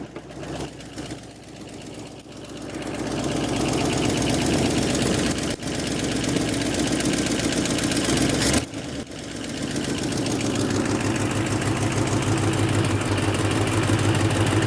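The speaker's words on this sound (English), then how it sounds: "Does it seem like it's only running on like 7 cylinders maybe?" An old V8 Mustang engine revived after 22 years of sitting, running rough as if on seven cylinders, a loud uneven idle with knocking, ticking valvetrain and a sputter partway through, heard up close.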